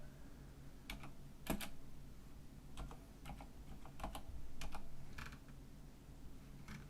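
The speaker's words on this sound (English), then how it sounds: "I'm just gonna go ahead and type this one in." Irregular clicks of typing on a computer keyboard, scattered keystrokes and short clusters over a low steady hum, quiet and close.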